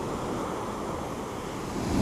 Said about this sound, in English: Yeah, a bit of a wave coming up there.